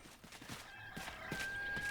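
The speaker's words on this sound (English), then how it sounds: "Why is the chicken cooing now?" A chicken in the video game Enshrouded gives a string of soft clucks and coos at moderate distance, short irregular calls over quiet game ambience.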